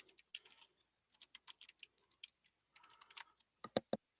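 Keys on a computer keyboard are tapped in quick irregular clusters with short pauses, ending in a few louder, sharper strokes, all close and without speech.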